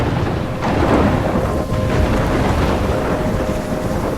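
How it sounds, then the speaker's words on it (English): A thunderstorm in the video game Life Is Strange rumbles and roars steadily, with thunder, rain and gusting wind filling the scene loudly and without pause. "I'm trapped in a storm?"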